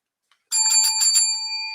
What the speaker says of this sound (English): Ring that bell